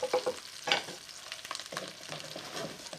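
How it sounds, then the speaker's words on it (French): Shallots fry in melted butter in a pan, giving a steady crackling sizzle broken by the scrape and clatter of stirring utensils. "on va y faire revenir, rôtir, dorer nos échalotes"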